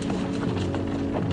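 Horses' hooves pound rapidly in a cavalry charge, a dense, continuous clatter of many strides close by with no voices.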